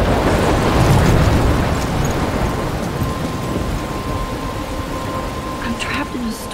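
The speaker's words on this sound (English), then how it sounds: "I'm trapped in a storm?" Heavy rain pours in a thunderstorm in the game Life Is Strange, a dense, loud wash of rainfall with low rumbling early on and a faint tonal hum later, no speech.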